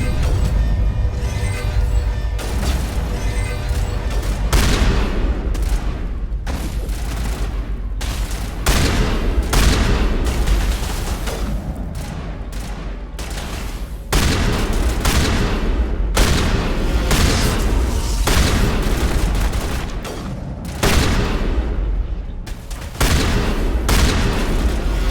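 Repeated heavy shotgun blasts ring out in a Mass Effect battle, loud and close, coming in quick uneven bursts over a low rumbling background, with no voices.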